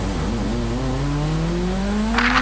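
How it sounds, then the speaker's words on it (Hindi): A motorbike engine in Call of Duty Warzone on Verdansk '84 fires up and revs, its pitch climbing steadily and loudly, with a brief hiss near the end and no voices. "बाइक शुरू करो"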